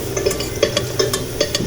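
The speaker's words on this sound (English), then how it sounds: "let the hing and the turmeric also cook in the hot oil" Hing and turmeric fry in hot oil while being stirred, a close sizzle punctuated by a quick series of rhythmic scrapes and taps of a spoon against the pot.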